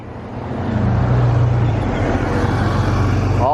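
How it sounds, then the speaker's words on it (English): A car rumbles past on the road, its engine and tyre noise rising from quiet to a loud, close, steady roar that holds to the end. "there's cars coming from the right"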